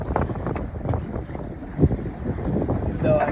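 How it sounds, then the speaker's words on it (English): Strong wind buffets a fishing boat on rough seas, roaring and rumbling against the microphone in heavy gusts, with sloshing water and spray mixed in and no talk. "Even though I got the wind protection on this mic, that's a lot of wind."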